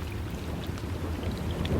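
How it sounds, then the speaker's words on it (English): Heavy rain pours steadily in a storm, a dense continuous hiss with low thunder rumbling underneath throughout, no voices. "The rain falls harder now,"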